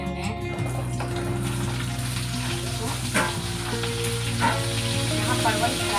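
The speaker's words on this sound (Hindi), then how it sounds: "तो परवल को फ्राई कर लेते हैं" Sliced pointed gourd (parwal) fries in a pan, a loud continuous sizzle and crackle with steady hiss, close by, with a low hum and occasional clinks beneath it.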